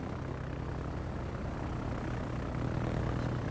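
A carrier-launched plane drones through the air in the naval battle game World of Warships. Its propeller engine hum is steady and fairly loud, holding at an even level throughout with no voices.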